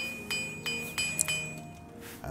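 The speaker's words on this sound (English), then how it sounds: "Let's thwack it with a hammer." Hammer strikes on an object in the Oblivion video game, a handful of sharp clinking, glassy hits spaced irregularly over a steady synthetic game hum, fairly close and moderate in level.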